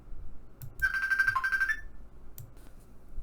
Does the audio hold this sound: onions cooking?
no